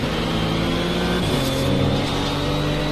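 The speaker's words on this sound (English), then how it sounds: "Wow, that gear changes so fast." A racing car in a driving video game, its engine note loud and steady, with a quick downshift of pitch midway as the gear changes rapidly.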